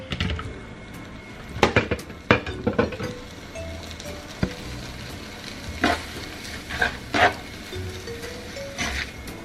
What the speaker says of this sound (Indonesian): Lalu diaduk rata.